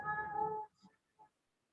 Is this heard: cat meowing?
yes